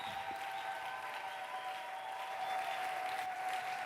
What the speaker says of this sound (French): nous pouvons acclamer très fort pour le roi des rois